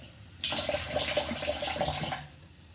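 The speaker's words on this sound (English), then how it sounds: "And I'm washing out my cutting board." Tap water runs into a kitchen sink, rinsing a wooden cutting board used only for fruits and vegetables; a steady close splash starts abruptly, holds for about two seconds, then cuts off.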